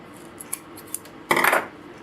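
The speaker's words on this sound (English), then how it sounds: "And I'm cutting in between the little teeth there." Scissors snip through a cotton T-shirt between small cut teeth, a few faint clicks followed by one close, crisp cutting burst lasting under half a second.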